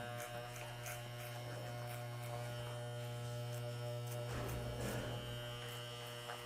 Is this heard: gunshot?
no